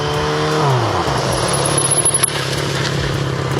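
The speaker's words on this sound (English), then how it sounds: "We're going to get up to about 25 miles an hour and come to a complete stop with only the rear brake." Motorcycle engine revving up to about 25 mph, gear changes stepping the pitch down, then easing off as the bike comes to a full stop on the rear brake alone; steady and close, no talk.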